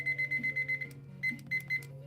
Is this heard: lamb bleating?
no